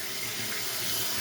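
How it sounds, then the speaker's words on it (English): Tap water runs steadily while rice is washed, a close, continuous splashing hiss with no break and no voices. "Now we're gonna wash the rice again."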